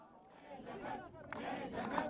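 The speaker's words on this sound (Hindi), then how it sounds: "लगातार नारेबाजी यहाँ पर चल रही है" Crowd of Congress party workers outside a police station in Delhi shouting slogans, a dense rising swell of many voices chanting together, heard from close by over a couple of seconds.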